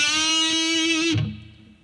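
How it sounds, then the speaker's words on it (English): Heavy metal electric guitar note bent on the third string at the seventh fret with the ring finger, a single sustained distorted tone held for about a second before cutting off, leaving a faint low thud and fading noise. "I'm bending the 3rd string on the 7th fret with my ring"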